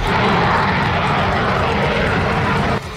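A Russian Su-34 fighter jet in flight, a loud, steady roar of jet engines that holds for a few seconds and then drops off abruptly near the end.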